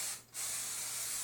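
A Dupray NEAT steam cleaner sprays steam into carpet in a steady, loud hiss that briefly dips and then resumes.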